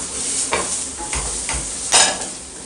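Carrots being stirred into a sizzling meat pie filling in a hot pan: a constant close hiss broken by several scraping stirs and one louder clatter near the end, with no talking.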